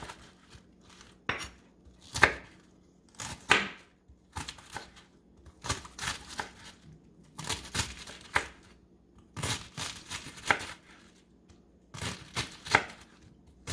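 Knife thinly slicing scallions on a cutting board while making Filipino chicken macaroni soup: a string of crisp, close chopping taps in short bursts separated by brief pauses.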